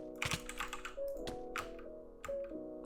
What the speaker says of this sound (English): what this does is it lets you click a lot faster because your hand is very shaky on your mouse